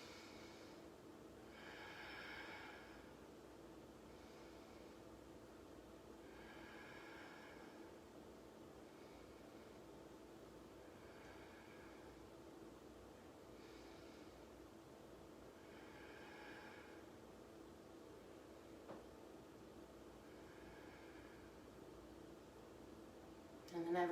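Slow, deep yoga breaths during a seated Ashtanga pose, each long soft inhale and exhale rising and falling at a gentle, even pace, quiet and close against a faint hiss.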